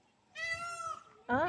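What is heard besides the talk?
peacock calling its mate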